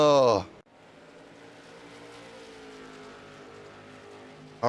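A late model race car engine in iRacing drones steadily at Myrtle Beach Speedway, a smooth, moderately loud hum with no revving, framed by brief bits of speech at the start and end.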